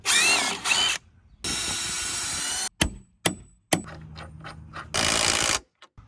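A power drill bores holes for through bolts in a wooden deck railing area, with several loud bursts of whirring alternating with pauses, sharp clanks and lower running noise close by.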